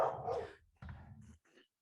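A dog barks a few short, muffled woofs and whimpers nearby in a brief burst, fairly quiet and alone with no talking.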